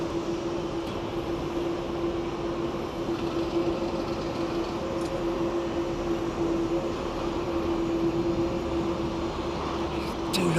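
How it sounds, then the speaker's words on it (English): A Qantas Freight Airbus A380 freighter at Sydney Airport gives off a steady, loud, droning engine roar with a faint hum, continuous from start to finish. "So that's a pure freighter with Qantas freight."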